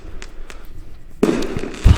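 Fireworks in the Doki Doki Blue Skies video game: faint distant pops give way to a loud burst and crackling, then another close deep boom near the end.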